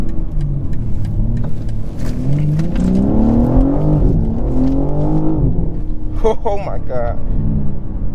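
2023 BMW M3 Competition xDrive engine revving and pulling hard through rising gear shifts, loud and close from the cabin, with a person's exclamation over it.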